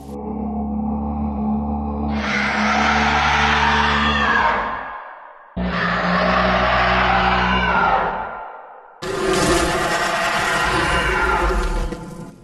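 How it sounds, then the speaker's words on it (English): Three long, loud, drawn-out creature screams from the horror video game Dolmen, each a rising bellowing roar that holds for a few seconds before fading, separated by brief silences, the last one harsher and more distorted. "Wait, I recognize what that scream is."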